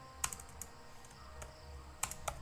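A few sparse, crisp keystrokes on a computer keyboard while writing Spring Boot Java code, close and fairly quiet, in two small bursts separated by a pause.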